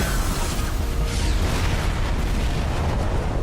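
A loud, dense game explosion from Fate/Grand Order, a sustained broadband roar and rumble that fills the moment with no breaks and no talking over it.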